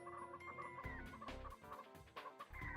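Chickens cluck and squawk repeatedly in Ratchet & Clank, several birds overlapping in busy bursts over a steady game soundtrack, fairly close and loud.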